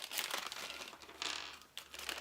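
Crinkly paper insert unfolded from a Justice League Action Mighty Minis blind bag by Mattel, giving close, bursty crackling and rustling in several waves with a brief pause before a last flurry.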